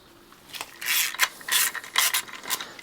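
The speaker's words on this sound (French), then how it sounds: "on va dévisser le tendeur, l'enlever et enlever les courroies" A 12 mm wrench works the belt tensioner loose on a Ducati engine, giving a string of close ratcheting clicks and scraping bursts in an irregular rhythm, with no talk over it.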